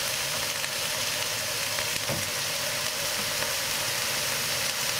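Veal paupiettes and onions fry in a pan, giving a steady, close, loud sizzle with a constant crackling hiss and no voices.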